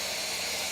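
Steam vents from the safety trap at the bottom of a Big Bertha field autoclave as pressure builds, a steady, even, close hiss with no voices.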